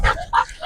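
A single dog, a Belgian Malinois or Rottweiler in protection training, gives two or three short sharp barks and yips in quick succession, close and loud.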